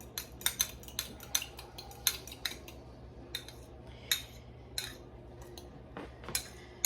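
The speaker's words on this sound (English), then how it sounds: "You want to go ahead and break up that yolk and beat the egg a little bit." An egg and oil are whisked with a utensil in a bowl, giving a run of sharp clinking taps against the side, irregular and fairly close, with no talking.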